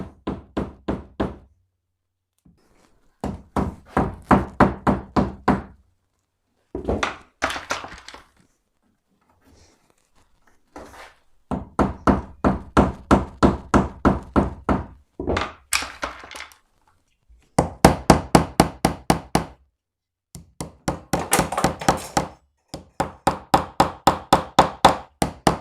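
Wooden dowels are hammered into glue-filled holes while a shelf for storing tape rolls is built: rapid bursts of sharp, close wooden knocks, each run of blows followed by a pause, with no talking.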